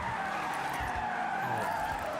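Car tires skidding under braking in Forza Horizon, a steady continuous screech over engine rumble for a couple of seconds, with no talk.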